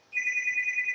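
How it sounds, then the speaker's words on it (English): A telephone rings on a sports talk show set, a single sustained electronic ring tone that starts abruptly and holds steady, loud and close. "didn't know we got phone calls on this show"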